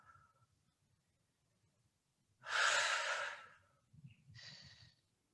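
One deep, loud breath taken in goddess pose during a yoga class, a long breathy exhale followed by a shorter breath, close and alone against a quiet room.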